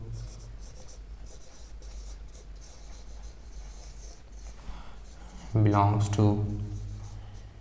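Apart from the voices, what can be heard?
writing an answer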